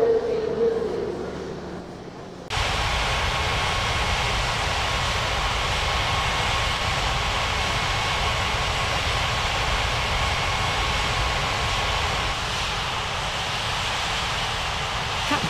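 A jet in a mobile flight simulator game taxis with a steady, loud engine whine and broadband rumble that holds almost unchanged after a short quieter start.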